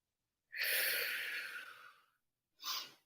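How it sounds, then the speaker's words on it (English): Close, heavy breath during a core exercise: one long, strong exhalation of about a second and a half, then a brief pause and a shorter second breath, with no talking. "Keep breathing."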